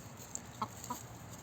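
Hens cluck quietly in a backyard chicken coop, a few short soft clucks and chirps at close range. A steady hum of background noise runs under them, and no one speaks.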